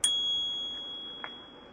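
A single bright ding from the bell on a Mokwheel Tarmac ST electric bike, struck once and left to ring out with a long, fading tone, close and alone.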